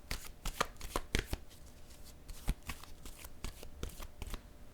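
Tarot cards being shuffled by hand, a close series of crisp riffling snaps and soft slaps in irregular bursts, fairly quiet, with no talking over them.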